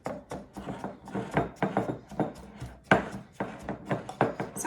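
A bowl of homemade brown sugar being worked by hand, the utensil cutting down through it as the bowl turns, giving a steady run of close, dry scraping and tapping strokes in an irregular rhythm.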